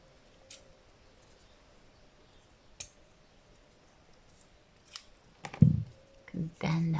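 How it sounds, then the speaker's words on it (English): Scissors snipping wires off a junk journal, a few sharp isolated clicks and snips spread apart, quiet and close, with light handling rustle toward the end. "First, let's cut off these wires."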